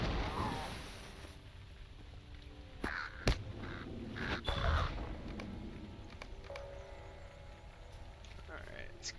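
Crows cawing in the online game Lord of the Rings Online, harsh calls rising over a low in-game ambient bed, with a few sharp clicks and thumps scattered through.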